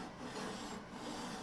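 Steady rasping abrasion as frets are slowly sanded down on a bajo, a continuous close scrubbing texture without pauses and no talk.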